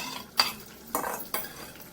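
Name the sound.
stirring and frying masala paste for rajma curry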